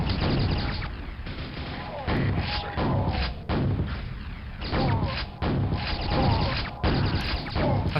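Enemy rocket bursts in the Quake video game, a series of heavy thudding explosions and blasts in quick succession, loud and close, over game noise.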